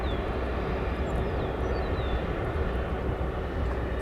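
A Qatar Airways airliner taxis at O'Hare Airport, its jet engines producing a steady, loud, broad roar that holds constant throughout, with faint high whistling drifting above it.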